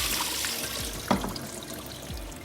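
Sliced potatoes rinsed in a sieve under running water, a soft continuous trickle and patter with a few small splashes, quiet and close, no voices.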